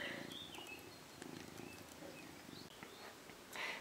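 A cat purrs softly in a quiet room with a low, rhythmic rumble that pulses in short breaths. A few faint ticks and rustles sit around it.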